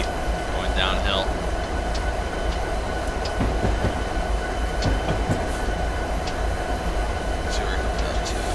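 A heavy freight train rolls downhill on Sherman Hill in Train Sim 2018, a steady loud rumble of rail cars and wheels with faint clicks throughout, while a voice talks over it.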